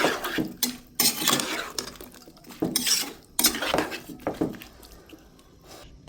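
Metal pots and a lid clank and clink on a stove during home cooking, with several sharp close knocks and scrapes in irregular bursts.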